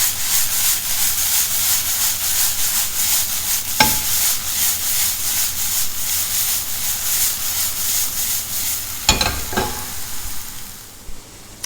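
Mushrooms and onions sizzle in a pan with a loud, continuous frying hiss that stays close and dense throughout, broken by a couple of sharp scrapes and clinks of stirring, and no talking.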